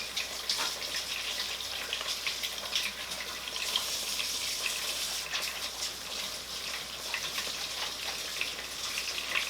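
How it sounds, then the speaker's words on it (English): Hands being washed under a running tap at a sink, a steady close splashing hiss of water with small shifts as the hands move through the stream, no voices. "All right, so I'm gonna wash my hands."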